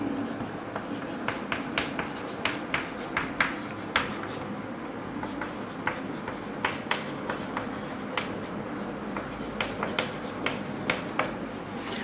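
Pen scratching across paper as maths working is written out, a steady series of short close strokes in an irregular rhythm over a soft room hiss, no talk.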